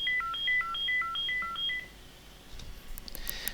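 A mobile phone sounding a quick run of electronic beeping tones in a repeating stepped pattern, fairly faint, followed by soft handling clicks.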